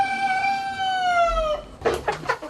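A rooster on a poultry farm near Yaoundé, Cameroon gives one loud, drawn-out crow that falls away. Several short clucks follow close by, against a low farmyard background.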